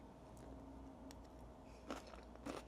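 Close, quiet crunching bites into a tofu salad with crunchy vegetables, a couple of sharp crisp crunches toward the end over soft background noise.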